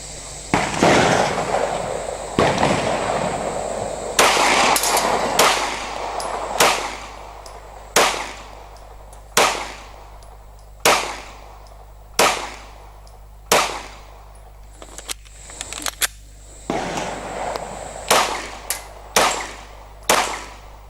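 Repeated loud 9mm gunshots from a Walther PPQ M2 pistol fired at targets, about a dozen sharp cracks spaced a second or two apart with echoing tails and a few quicker doubled shots.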